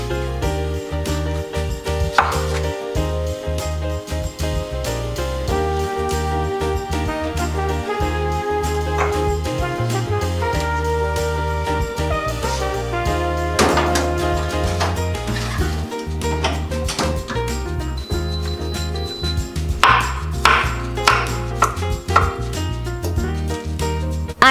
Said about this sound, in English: all the rest I'm going to chop it into little cubes